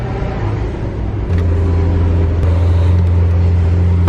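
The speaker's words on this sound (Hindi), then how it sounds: "we're literally sitting in a Lamborghini driving around Faisalabad right now" Lamborghini engine droning steadily from inside the cabin while driving around Faisalabad, a low continuous hum that swells slightly louder partway through, with no talking.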